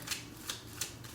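Tarot cards are shuffled in short, soft riffling bursts, three or four quick rustles spaced evenly in a quiet room.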